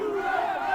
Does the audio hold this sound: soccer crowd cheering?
yes